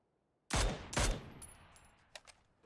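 Two heavy gunshots from a Mini-14 rifle in a shooter video game crack out in quick succession, followed by a few fainter, more distant pops, loud and close with no talk over them.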